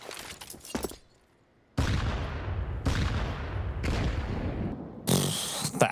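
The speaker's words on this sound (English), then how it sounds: "That's a bombardment of nades and not really getting a lot out of it" Grenades bursting in a CS:GO match on the Vertigo map, a run of heavy booms spaced about a second apart, loud and close, with a sharp crackle at the end.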